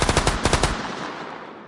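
Rifle gunfire sound effect: a rapid, loud burst of automatic shots lasting under a second, followed by a long fading echo that tails off into quiet, with no voices.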